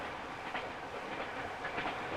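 A moving train heard from on board, a steady muffled rumble of carriages on rails with soft periodic swells, fairly faint and without speech.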